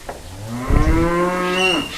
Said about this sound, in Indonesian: Sapi gede.